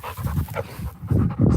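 Roxy the dog pants close by in quick, rhythmic breaths, heavy and loud, with short pauses between bursts.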